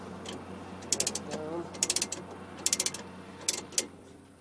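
A ratchet wrench loosens a lug nut while a flat tire is changed at the roadside, giving short bursts of rapid clicking repeated several times over a low steady hum.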